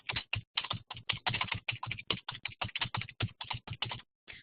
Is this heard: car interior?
no